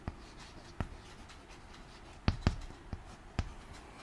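Pen or chalk writing during a class, a series of sharp scratchy strokes and taps at irregular intervals over a faint quiet background, without speech.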